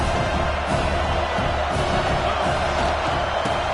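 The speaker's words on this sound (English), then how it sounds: "how nice is it to have the home crowd going absolutely bananas?" A home stadium crowd roaring in the College Football 26 video game, a dense, constant wall of cheering and noise that stays loud and even throughout, with commentary voices faintly mixed in.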